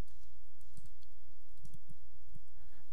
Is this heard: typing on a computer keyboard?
yes